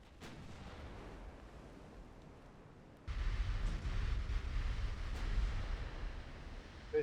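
Warship gunfire in Ultimate Admiral Dreadnoughts: a sharp distant report opens over a low, muted background, then a heavier booming salvo kicks in and rolls on as a sustained deep rumble.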